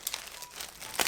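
Biodegradable plastic packaging around panty liners is crinkled and handled up close in a few quick, soft rustling bursts, ending in a louder crackle, with no one speaking.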